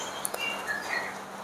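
Canaries in a breeding aviary give a few brief, high chirps and tweets over a faint background hiss. The calls are scattered and moderately close, with no voices.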